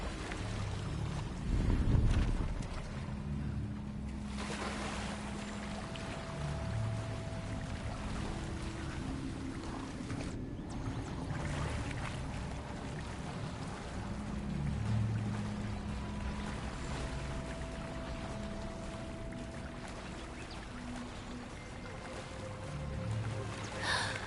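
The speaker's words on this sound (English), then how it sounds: "where the water's bubbling" Water bubbling and churning in Hogwarts Legacy, a continuous rushing wash with gurgling swells and a soft gust of wind noise near the start, steady and fairly loud throughout with no one speaking.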